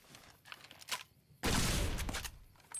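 Prototype hollow rifle, a sniper rifle that behaves like a shotgun, fired in Fallout New Vegas Old World Blues; a single loud blast with a lingering roar follows a few faint scattered clicks and thuds.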